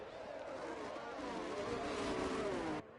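Race car engine in a Singapore Marina Bay racing video game, a steady high whine with a slowly falling pitch, sustained and fairly loud before cutting off abruptly near the end.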